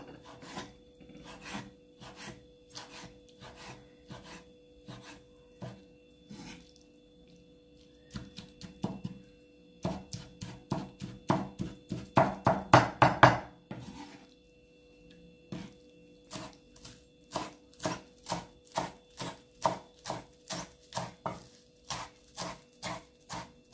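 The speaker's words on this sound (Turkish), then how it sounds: "Şimdi közlemiş olduğum biberlerimizi güzelce doğruyorum." Roasted, peeled peppers being chopped with a knife on a board: steady runs of short, sharp taps in quick rhythm, pausing briefly then resuming, with a denser flurry in the middle, close and moderately loud with no talk.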